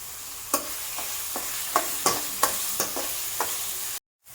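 Ingredients for a chicken curry sizzle in a pan under a constant frying hiss, with about ten sharp scrapes of a stirring spoon at irregular intervals, then a sudden cut to silence.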